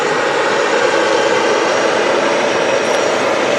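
Steady, loud roar of a Qatar Airways Boeing 777-300ER jet at Manchester Airport, a broad continuous engine drone with a faint high whine, holding constant throughout with no talk.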